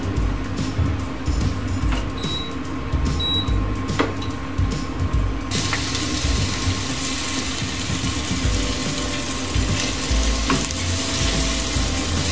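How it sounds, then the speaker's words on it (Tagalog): Carrot and potatoes frying in a pan: continuous loud oil sizzle with crackling, intensifying into a brighter hiss partway through, plus occasional clinks of stirring, no voices. "I-fry ko na muna po itong carrot tsaka po patatas."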